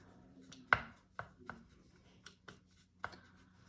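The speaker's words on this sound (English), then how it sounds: "I'm going to add in some more white with my palette knife. Mix that up" A palette knife mixes white into paint on a palette, making a few soft scraping taps that come irregularly and faintly at close range.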